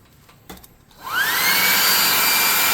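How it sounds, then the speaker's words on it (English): A hot air gun clicks on and ramps up into a loud, steady high-pitched whine and rush of air while drying fresh acrylic paint on a hand-made tabletop gaming miniature, alone without talk. "This is a +2 hot air gun of burning."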